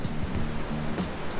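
Steady surf from the ocean where a total solar eclipse is expected, a continuous broadband wash of breaking waves at moderate level with low rumbling pulses, no voices.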